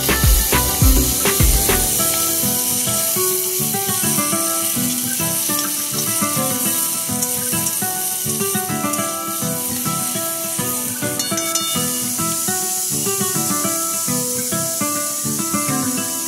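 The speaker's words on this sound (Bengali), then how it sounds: "তেল গরম হয়ে গেলে চিংড়ি মাছগুলো দিয়ে ভালো করে ভেজে নিতে হবে।" Prawns frying in hot oil in a wok, a loud, dense, steady sizzle and crackle running throughout with brief spattering bursts near the start.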